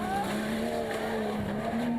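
A Jeep Cherokee rally car on a stage at the Marmaris Rally, its engine holding a steady, sustained drone at moderate distance with faint tyre noise, no voices.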